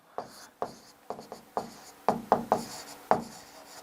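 Chalk or marker taps and strokes on a board during a maths lesson, a run of about nine quick, close, rhythmic writing sounds with no talk over them.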